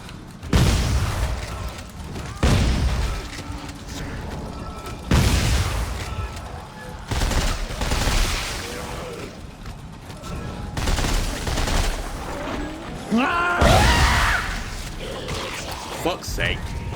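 Dead Space 3 gunfire lands as a series of loud, booming shots spaced a second or two apart, each with a ringing tail over game ambience, with a voice talking in between.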